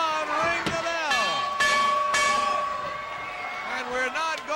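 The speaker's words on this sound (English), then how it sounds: "Ring the bell." A wrestling ring bell clangs several times in sharp strikes, each leaving ringing metallic overtones that decay, over crowd noise at a 1989 USWA televised wrestling event.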